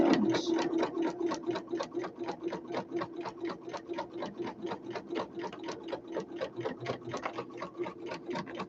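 A domestic sewing machine stitches fabric for a small handbag or toiletry gift bag in a steady, rapid mechanical clatter of evenly spaced needle strokes, close and continuous throughout with no talking.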